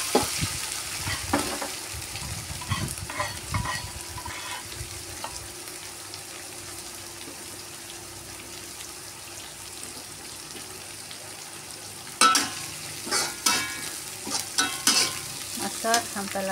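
Carrot and kailan stems stir-fried in a pan, with a dense crackling sizzle and scraping of a utensil against the pan, easing off midway before louder clattering stirs return near the end.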